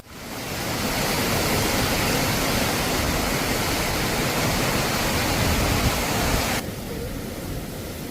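Waterfall pouring in a natural rocky riverside setting with stone walls, a steady loud broadband roar that continues unbroken, dropping slightly in brightness near the end.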